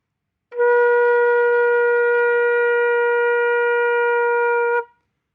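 A flute sounds one long, steady B flat, starting after a short pause and held evenly for about four seconds before ending.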